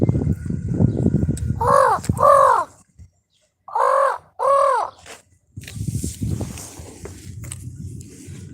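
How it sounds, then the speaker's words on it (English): A crow flying past gives four loud, hoarse caws close by, in two pairs with a short pause between them. Footsteps and rustling come before and after the calls. "That was a crow going by."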